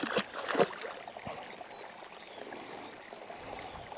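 Lassie the dog splashes through a Dartmoor stream near Doe Tor, with a few brisk splashes at first that settle into steady, gentle running water.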